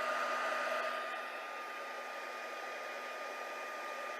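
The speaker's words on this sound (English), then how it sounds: "I'm just going to have to hit this just a tiny bit with my heat tool." A craft heat tool blows steadily over Fluid 100 watercolor paper, a continuous even whirring hiss held close without break.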